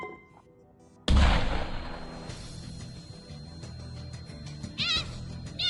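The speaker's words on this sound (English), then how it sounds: "Now'd be a good time to throw the flashbang, mister!" A flashbang grenade goes off in the VR game Dyschronia with a sudden loud bang about a second in, then a sustained noisy wash with a high ringing tone and small crackling bursts.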